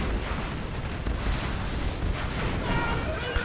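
Carpet-bomb explosions strike an airfield in a video game, a continuous, dense rumble of overlapping booms and crackling blasts that rolls on for several seconds at a loud, steady level.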